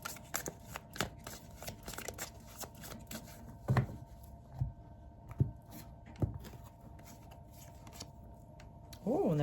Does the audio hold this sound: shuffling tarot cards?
yes